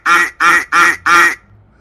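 Four loud, evenly spaced synthetic duck quacks, each a short nasal burst with brief gaps between, created as a computer-generated sound effect, close and clear with no talking.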